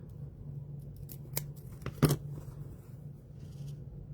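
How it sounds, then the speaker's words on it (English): Scissors snip through fabric right up to the stitching of a small sewn dress, giving a few quiet, close cuts with one sharper snip in the middle over a low steady hum. "I'm cutting right up to the stitches"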